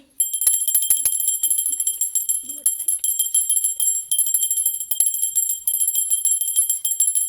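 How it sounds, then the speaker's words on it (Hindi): Bell rung repeatedly in a steady, bright, sustained ringing with sharp metallic strikes layered over lingering high tones, loud and close and continuing throughout without talk. "यहाँ पर यूनिवर्स का घंटा बजेगा"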